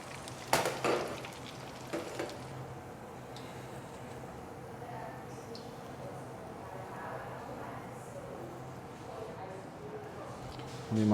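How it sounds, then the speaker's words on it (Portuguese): Bar-style snacks deep-frying in oil that covers them, a steady soft sizzle with a few utensil clinks, under a voice talking. "É bom que ele cubra o óleo, cubra eles para eles fritarem todos uniformes de uma vez só."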